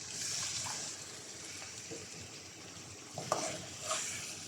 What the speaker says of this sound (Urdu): ہم اس میں 1/4 کپ پانی ایڈ کریں گے